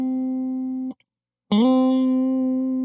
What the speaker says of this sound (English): So slide into the 10th fret of the D